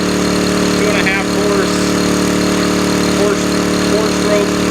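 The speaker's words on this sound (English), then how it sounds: "And now we're filling with the portable pump through the direct fill on the rear." A Honda 2.5 four-stroke gasoline portable pump engine, rated 80 PSI and 80 GPM, runs at a steady loud drone on a brush engine, with a voice talking over it.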